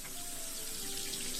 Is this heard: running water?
yes